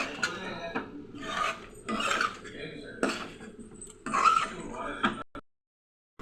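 Prawns being stirred with spice powders and garam masala in a metal pan or bowl for a raw prawn fry, giving several short scraping, rasping bursts of spoon against the vessel, close and fairly quiet, followed by a brief silence.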